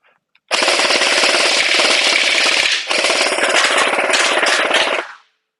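An Anstoy M4A1 gel ball blaster fires in a fast, continuous full-auto burst of close, loud rattling shots. The burst runs about two seconds, pauses very briefly, then continues for roughly two more seconds.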